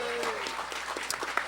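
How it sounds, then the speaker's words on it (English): A crowd at a retro gaming expo auction claps briefly for the board president, scattered applause over room noise. "So can everyone just give Rick a round of applause?"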